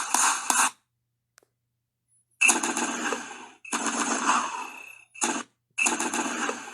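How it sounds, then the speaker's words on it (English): Rapid bursts of cartoon gunfire from an animated gunfight, loud and dense, arriving in several separate volleys with short silent gaps between them. "Gunfight."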